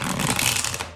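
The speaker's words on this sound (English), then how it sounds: "we're gonna shuffle these cards for you, Scorpio" A deck of tarot cards is shuffled in one quick riffle, a rapid burst of close, crisp clicking that tapers off within about a second.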